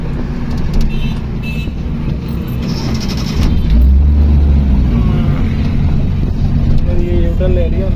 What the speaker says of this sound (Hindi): ये देखें इधर से ट्रैफिक काफ़ी आ रही है।